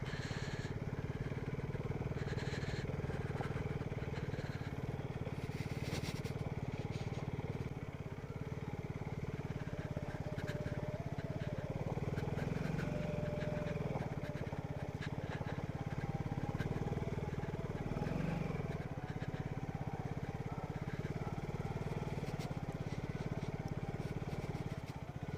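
A motorcycle engine in second gear descending a steep slope at sunrise in Ooty, a steady close-up drone with wind rush that holds constant with no speech.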